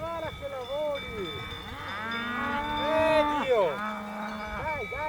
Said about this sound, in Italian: non posso portarmi a casa anche le mucche